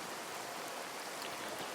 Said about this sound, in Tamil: அன்றைக்கி இரவு கடுமையான புயல் வந்து வீச ஆரம்பிச்சிச்சு